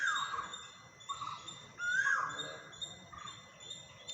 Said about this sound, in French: Plein d'oiseaux ici à Mysore.